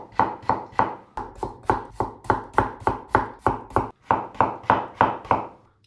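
A knife thinly slicing cucumber for a Japanese sunomono salad, cutting with a steady rapid rhythm of about a dozen crisp chops against a board, close and clear with a brief pause near the end.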